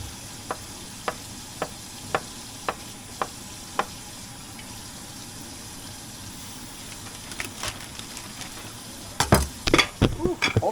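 A spoon stirs a pot of homemade chicken soup during home canning: regular clinks against the pot in a steady rhythm, then louder scraping and clatter near the end over a faint background hiss.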